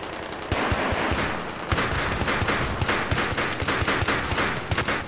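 Dense, sustained gunfire in Battlefield 3 Close Quarters, with rapid shotgun blasts and overlapping shots in a cramped indoor battle, loud and continuous with sharp bursts throughout.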